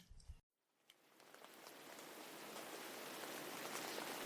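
Rain falling steadily around a gazebo, a soft broadband hiss that cuts out briefly near the start and then builds and holds, continuous and without talk.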